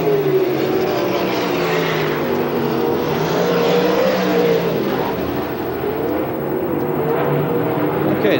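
Sprint cars racing at Manzanita Speedway in 1992, several engines snarling together in a loud, continuous roar that swells and fades a little as the pack passes.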